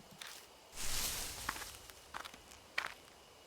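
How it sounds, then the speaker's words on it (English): Footsteps rustle through bushes on a gloomy wooded trail in the horror game Spirit Hunter: Death Mark, a few soft, scattered steps with a louder rustling burst, fairly close and faint against quiet ambience. "there are footsteps close by, from the bushes."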